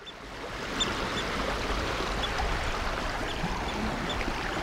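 Rapids and a small waterfall on a burn make a steady broadband rush of water heard nearby, constant and fairly loud throughout.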